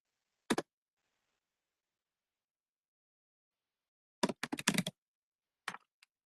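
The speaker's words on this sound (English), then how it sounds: "And then I need to type in my attorney ID here" Keystrokes on a computer keyboard as an attorney ID is entered: one short tap, a long pause, then a quick burst of several clicks and a final pair of taps, close and crisp in otherwise silent surroundings.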